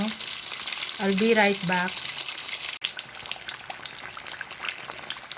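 Tilapia fish frying in a pan, a steady loud broadband sizzle throughout, with a voice speaking briefly near the start.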